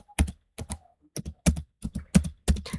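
A computer keyboard clacks out a terminal command in quick, crisp, close keystrokes, some in pairs, with short gaps between them and no voices.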